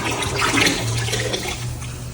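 Liquid ceramic glaze sloshing and swirling inside a pot, a continuous wet churning rush that stays close and fairly loud for a couple of seconds, with no talk.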